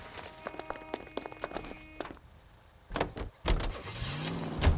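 A car from the video game L.A. Noire, with doors thudding shut, footsteps and a brief electric whir before the engine starts and revs up in the second half, all heard fairly close.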